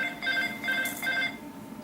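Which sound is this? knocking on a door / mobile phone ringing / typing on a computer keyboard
mobile phone ringing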